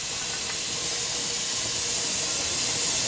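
Steady, loud hiss of steam venting from the small hole of a pressure canner while pasta sauce is being canned, continuous and unbroken throughout with no talking.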